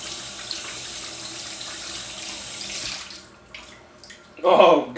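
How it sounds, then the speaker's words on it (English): Tap water runs steadily into a kitchen sink, rinsing excess salt off food, then cuts off and splashes briefly again near the end. "I want to get this rinsed off really quick"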